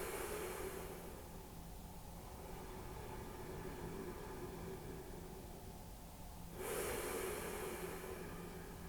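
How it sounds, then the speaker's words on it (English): Slow, deep belly breathing in a reclined cobbler's yoga pose: a long, soft, hissing breath sustained for several seconds, then a fresh, stronger breath near the end, heard close over a steady background hiss. "Place the hands on the belly and start to send the breath down into the belly"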